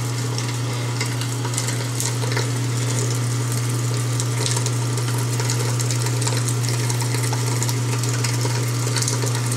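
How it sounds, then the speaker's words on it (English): A twin-gear juicer grinds dry produce dregs, giving a steady mechanical hum with a continuous gritty crunching texture that runs unbroken and fairly loud throughout, with no talking. "You can actually hear it grinding in there."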